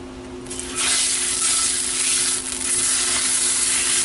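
Meat, still partly frozen, frying in a pan with a little olive oil; a loud, steady sizzle starts after a brief quieter moment and continues without letting up, with no voices.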